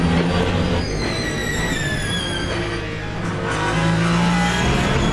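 Ferrari race car engine in Le Mans Ultimate, a steady loud drone with rising and falling revs as it climbs through gears, continuous and close throughout with no voices.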